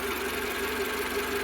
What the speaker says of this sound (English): I've got the engine running